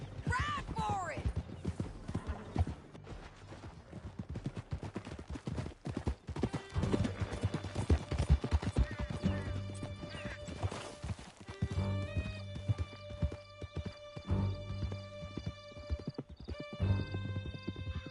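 Galloping horses in the video game Red Dead Redemption II, hooves pounding steadily up close with occasional whinnies, while voices speak over the rush of the ride.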